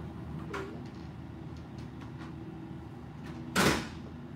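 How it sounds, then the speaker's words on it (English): A loud door in a room opens or closes with a sharp scraping rush near the end, preceded by a few soft knocks over a low steady background hum, with no talking. "That door is loud."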